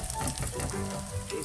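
Eggs sizzle and fry in a pan on a work kitchen stove, a steady close crackle that runs without a break and with no voices.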